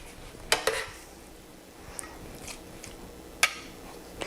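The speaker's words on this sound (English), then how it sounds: "I'm gonna put the vegetable noodle mixture on the bottom and top with my steak that I already have done" Vegetable noodle mixture spooned into meal prep dishes for a beef recipe, with a few sharp clinks of utensil against dish and soft, wet scraping between them, close and quiet.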